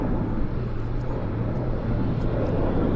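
Departing airplane at Vancouver airport, with smoke in the air: a steady, broad low rumble of jet noise that holds evenly throughout, distant and continuous with no talk.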